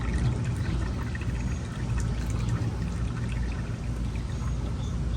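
Old hydraulic fluid pours steadily out of a hydraulic cylinder being flushed, a continuous close splashing stream that holds even for several seconds with no talk over it.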